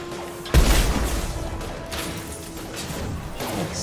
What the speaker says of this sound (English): Exploded on me.